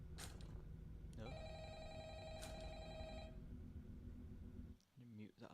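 Phone ringing in the FNAF Rewritten video game, two bright electronic rings over a low mechanical hum, followed by a short rustle as the sound stops.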